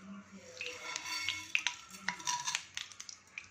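Mustard seeds, chana dal, urad dal, fenugreek and cumin splutter in hot oil in a pan, a soft hiss broken by scattered sharp pops and crackles, close and fairly quiet with no talking.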